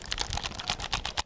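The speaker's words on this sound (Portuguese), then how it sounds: "o barulho dos cliques que ele constantemente emite ao apertar os botões" A dense run of sharp plastic button clicks from an alternative Nintendo Switch controller, rattling close and loud in quick succession.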